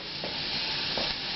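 Red bell peppers and turnips crackle and sizzle loudly in a hot pan, a close continuous frying hiss with two brief swells as the vegetables are tossed.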